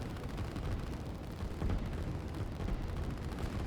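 Artillery fires in the video game Line War as a dense, distant rumble of overlapping booms and crackling shots, steady and low throughout.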